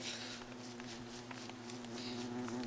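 Bees buzz around a bee box with a steady, close, droning hum and overlapping wing whines, continuous and moderately loud with no voices.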